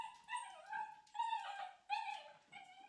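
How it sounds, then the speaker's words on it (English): Several dogs whimper and yip excitedly in a series of high, bursting cries with short pauses between them, at moderate loudness and fairly close, celebrating a person arriving home. "our dogs are celebrating her return home"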